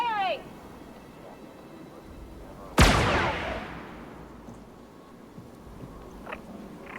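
A single sharp blaster shot in Star Wars Outlaws cracks loudly and decays over a couple of seconds, with quieter game ambience and a few faint effects around it.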